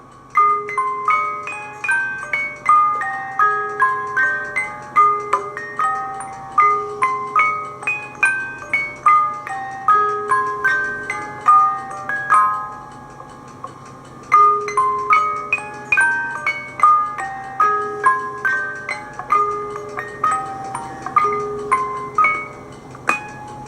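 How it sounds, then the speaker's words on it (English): Tinkling music-box melody plays steadily from an electronic device on a table in a house during a paranormal investigation, repeating bright chiming notes with a soft hum beneath, no voices. "If you can hear that music, if you like it."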